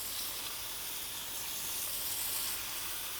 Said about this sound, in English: So we're just going to lay these on the griddle.